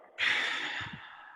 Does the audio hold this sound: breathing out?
yes